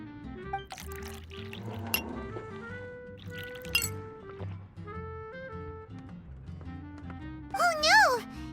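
Glass clinks and juice pours in Genshin Impact during a summer vacation event, a bright chiming jingle rising near the end over soft game music, with brief tinkling accents earlier.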